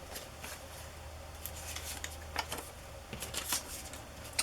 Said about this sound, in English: I cut that out of a children's book.